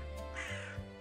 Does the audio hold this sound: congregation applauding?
no